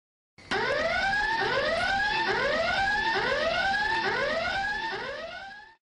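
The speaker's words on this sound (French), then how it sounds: "Connor, pourquoi as-tu déclenché l'alarme des secrets?" A loud electronic alarm in a Sims 3 video game repeats a rising, swooping tone in steady cycles for several seconds before cutting off, with no voices.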